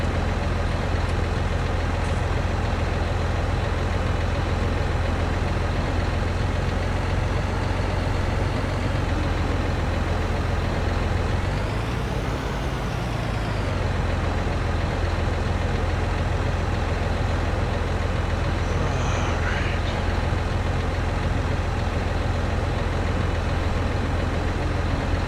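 A big tractor engine idles steadily in a farming video game, a loud continuous low drone with a brief swell in the middle and no talking.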